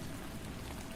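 Steady, dense rain patters on a surface in a continuous wash of noise, faint distant rumble underneath.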